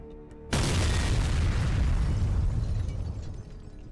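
A Su-27 strike hits a battalion-level Russian command post in the village of Novohrodivka, Donetsk region: one sudden, heavy blast followed by a long, loud, rumbling roar that slowly fades.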